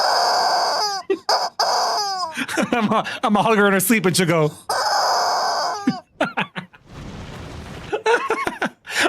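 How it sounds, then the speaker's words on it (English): A squeaky rubber chicken toy, a Christmas gift, lets out a series of loud, strained squawks and squeals between bursts of nearby talk and laughter, ending in a rough, noisy honk. "I got a squeaky chicken for Christmas."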